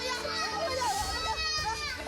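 Small child crying and wailing during a live-streamed social media broadcast of a woman being assaulted by her boyfriend in Kota Baru, Jambi; continuous, close, high-pitched distressed child vocalizing.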